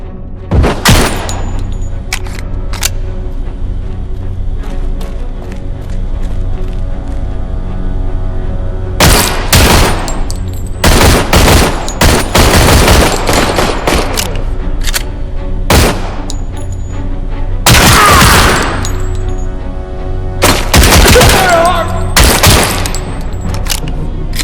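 Heavy gunfire in Robocop Rogue City: loud, dense volleys and booming shots come in clusters over a constant low hum, first sparse, then thick rattling bursts.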